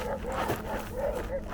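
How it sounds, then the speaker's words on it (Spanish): Dogs in Gaza yelp and whine in short, wavering calls that sound somewhat distant, mixed with a voice talking over them. "Bueno, esos ladridos son de Gaza."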